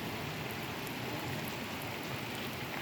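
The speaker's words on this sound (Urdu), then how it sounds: "اور بارش تیز ہو گئی ہے" Heavy rain pours steadily during a cyclone in Oman, a dense continuous hiss of drops hitting surfaces close by, with no voices.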